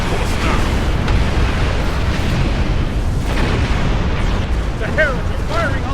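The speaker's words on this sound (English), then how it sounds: "The Heralds are firing on the portal!" Weapons fire and explosions at a portal in Star Trek Online, a loud, continuous barrage of booming blasts and energy bursts with rising zaps near the end.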